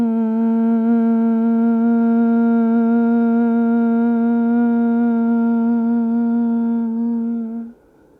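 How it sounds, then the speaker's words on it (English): A Bhramari yoga breath, one long steady nasal hum held for about seven and a half seconds before fading out, close and clear, with no other sound. "we'll take a Brahmari breath here"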